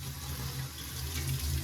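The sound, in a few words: tap water running to mix a calf milk-replacer bottle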